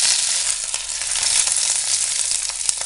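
Curry leaves crackling and sizzling in hot coconut oil with mustard seeds, urad dal and dried red chillies, a dense, steady, loud frying hiss with scattered pops throughout, no voices.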